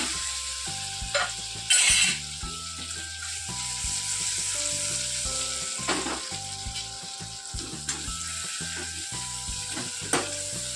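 Stuffed Kathiyawadi garlic brinjals fry in oil in a pot, a constant close sizzle with repeated scraping and stirring knocks against the metal throughout, no talking.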